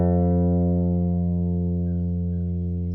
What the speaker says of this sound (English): take your pick with your right hand, place your pinky on the body of the guitar underneath the strings, and pluck down on that low E string